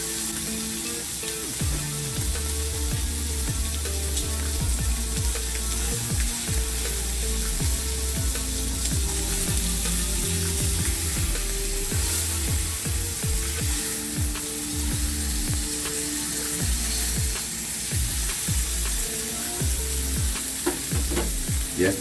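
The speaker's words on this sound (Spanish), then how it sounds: "Sin nada de aceite vamos a depositar nuestro corte de carne." A ribeye steak sears in a dry pan with no oil, giving a loud, continuous sizzle and spitting crackle, with frequent scraping and stirring noises over it and no voices.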